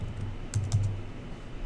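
A short burst of a few computer keyboard keystrokes during coding work, quiet and close, clustered over a low steady hum, with no talking.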